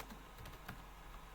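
Keystrokes tap at a quiet, uneven pace on a computer keyboard during a frontend web development lesson, a few sharper clicks standing out over low room noise.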